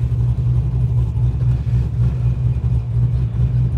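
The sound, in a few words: car engine with Gen 4 PCM revving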